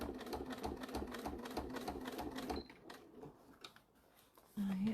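A sewing machine stitching a bag runs in a fast, steady mechanical rhythm for a couple of seconds, stops, then leaves quiet handling noise before briefly starting again.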